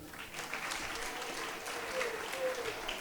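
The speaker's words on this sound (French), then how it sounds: "On va l'acclamer." An audience applauds the parish priest at a diocesan closing ceremony for Missionary Childhood Week in Grand Bassam. Steady, dense clapping from a crowd goes on throughout.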